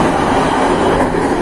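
A KA Gumarang train carriage, the rearmost car of a long rake, runs on rails with a loud, steady, dense rumble heard from inside, constant throughout with no voices.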